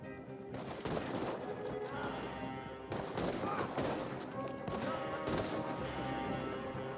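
Gunfire in the video game Red Dead Redemption II comes in rapid volleys of rifle and machine-gun shots, loud and continuous. Brief quieter gaps fall between the bursts, and voices are faint underneath.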